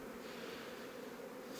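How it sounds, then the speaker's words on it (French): Honeybees in an opened beehive give a steady, dense buzz that hangs at a constant faint level throughout, with no voices over it. "je prendrai les abeilles qu'il y a là-dedans un peu après"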